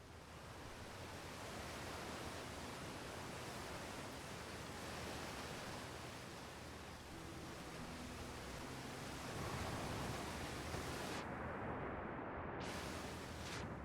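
Steady, broad roaring rush of a waterfall in the space exploration game Outer Wilds, loud and unbroken, with no talk.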